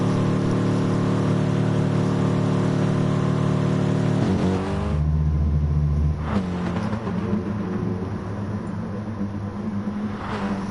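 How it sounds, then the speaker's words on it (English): A race car in Gran Turismo Sport held at the rev limiter, its steady high engine drone stuttering and cutting as revs bounce, loud and continuous throughout. "Bouncing the car off the rev limiter."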